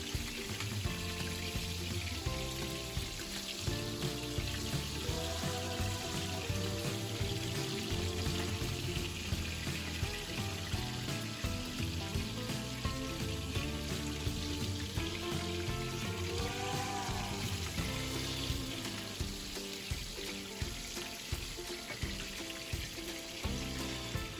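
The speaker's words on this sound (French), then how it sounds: "On vient griller notre poisson, donc là on va bien la frire sur les deux côtés." Fish fries in hot oil in a pan for a tomato-sauce fish dish, giving a loud, continuous crackle and sizzle that stays dense and steady throughout, with no talking.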